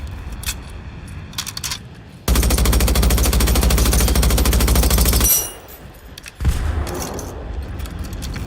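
In the video game Generation Zero, a belt-fed machine gun fires one loud, continuous rapid burst lasting about three seconds, then goes quiet. A shorter burst of noise follows, with faint clicks of handling before and after.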